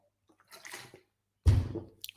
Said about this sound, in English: Take a sip of water first, though, right?